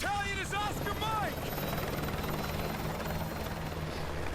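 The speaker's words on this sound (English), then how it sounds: "Oh, sorry guys. Helicopter." A helicopter in Call of Duty Modern Warfare 2 gives a steady, fairly faint rotor drone throughout. Brief high voice-like sounds rise over it at the start.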